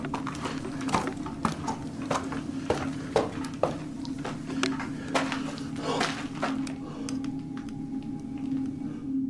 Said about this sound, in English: Ian is a bit shaken up by the strange, unexplained footsteps